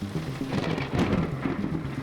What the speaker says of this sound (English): even over the rain pattering down on the buildings